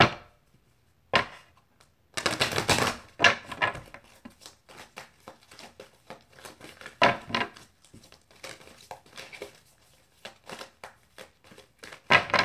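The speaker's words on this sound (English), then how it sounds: "I'm going to go ahead and pull some advice cards here for Virgo." Tarot advice cards are shuffled and pulled by hand, giving irregular bursts of papery riffling and soft slaps with short pauses between, close up and mostly free of talk.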